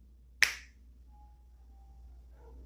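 A single sharp finger snap, close and crisp, followed by near silence with only a faint tone in the background.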